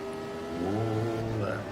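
A 1975 Formula Retro race car in the Automobilista sim racing game at the Österreichring screams at full throttle, its steady engine tone rising in pitch under continuous talk.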